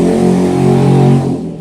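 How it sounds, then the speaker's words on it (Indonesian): A motorcycle engine passes along a roadside, loud and close with a steady drone that drops in pitch and fades slightly as it moves away. "sorry ada motor lewat"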